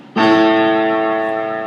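A single low sustained A2 note at 110 Hz sounds after a brief pause, rich in overtones and slowly fading, played alone without any voices.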